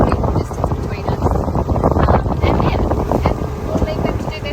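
A catamaran motors along at about 8 knots with both engines running, a steady engine drone mixed with heavy wind buffeting on the microphone and water rushing past the hull, loud and continuous throughout.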